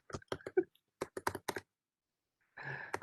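Keys clack on a computer keyboard as a command is typed into a telnet login for a MikroTik router: a quick burst of crisp, close taps, a pause, then a short wash of broadband noise at the end.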